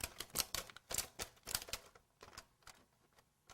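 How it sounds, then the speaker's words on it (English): A handheld craft punch stamps out small shapes from edible gelatin lace, giving a quick run of sharp, close clicks and snaps that spread out and fade softer toward the end. "And you just punch a whole bunch of these"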